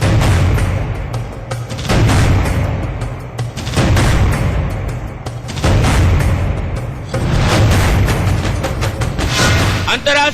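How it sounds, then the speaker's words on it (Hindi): Gunfire near the Indian international border patrolled by BSF troops, heavy booming blasts arriving in loud bursts with rumbling gaps between them, fairly close and dominant. "इन इलाकों में जो आवाज सुनी जाती है वो सिर्फ एक ही आवाज होती है, और वो आवाज होती है गोली की।"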